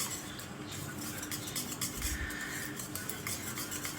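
A spoon scrapes and swirls through payesh, a rice kheer made with milk powder, in a pot, giving soft continuous stirring and faint clinks at close range with no talk.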